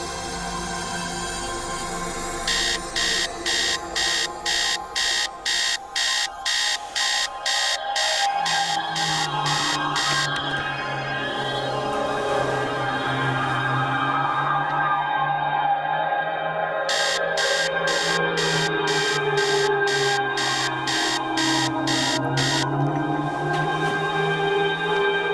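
An alarm clock rings in repeated rapid electronic pulses, loud and close, stopping midway and then returning over a sustained, wavering drone.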